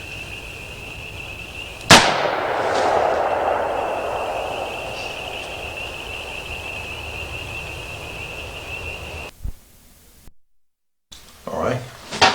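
A single sharp gunshot cracks out close and loud, followed by a long ringing echo that fades slowly, with brief movement noise near the end.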